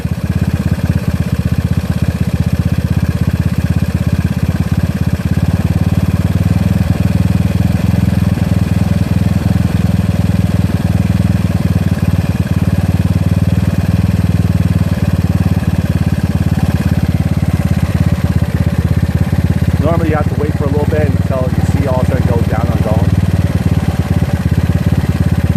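A GY6 scooter engine fitted with an OKO PWK 30mm carburetor idles steadily and close by, a constant mid-pitched drone, with a brief metallic rattle near the end.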